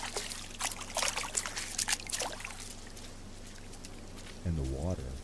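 Trickling, splashing water in No Man's Sky runs in bright irregular bursts near the start, then settles into a faint steady wash before a voice comes in at the end.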